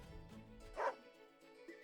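A dog barks once in a short, clear yip, standing for the playable dog commander Caesar in the strategy game Wargroove, set over soft background game music with no talk.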